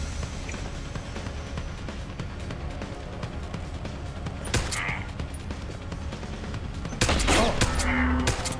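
Gunfire in the video game Deus Ex: Human Revolution, The Missing Link: a few sharp shots stand out, around the midpoint and near the end, over a steady busy game soundscape.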